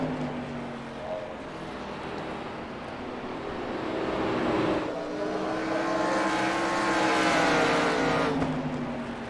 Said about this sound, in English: he's really sliding that car sideways